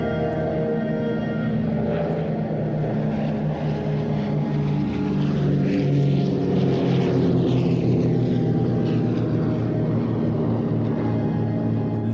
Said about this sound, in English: There we go, the sound of the aircraft.